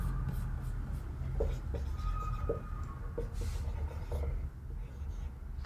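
A marker or chalk scratches across a board during a maths lesson on mixture problems, with short strokes and pauses over a steady background hum.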